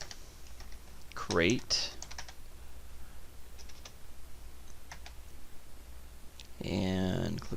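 Computer keyboard typing as a layer gets a new name: a few bursts of quick, light key clicks, with a person speaking briefly in between.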